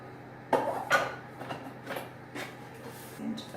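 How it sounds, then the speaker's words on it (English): A utensil scrapes spice mix off a lid into a bowl in a series of short metallic scrapes and clinks, close and moderately loud, with brief pauses between strokes. "Just scrape the spice off the lid"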